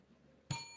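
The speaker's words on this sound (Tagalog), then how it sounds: "Bell." A single bright bell ding strikes sharply and rings out with a lingering metallic tail after quiet background hiss.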